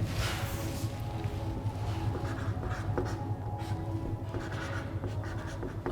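A teacher in a chemistry class writes on a board, giving a steady scratchy run of chalk or marker strokes that goes on for several seconds with no talking, fairly close and moderately quiet.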